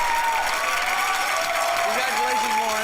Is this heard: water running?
no